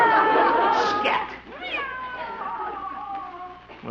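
A cat lets out drawn-out meows, a long wavering cry followed by a rising yowl, close and fairly loud with no talking.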